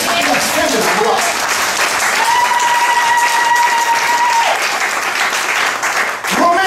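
A church congregation applauds and cheers for Jesus, a dense, sustained wash of clapping and voices filling the room, with a held sung or shouted tone rising above the crowd partway through.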